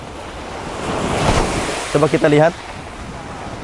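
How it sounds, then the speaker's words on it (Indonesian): Ocean waves wash onto the shore in a soft, steady surge that swells in the middle, with someone speaking briefly over the surf. "Ada ombak-ombak yang silih berganti terus-menerus."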